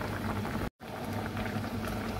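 Pork belly simmering in a pot of water for Filipino sisig, a steady close bubbling boil with a brief dropout partway through.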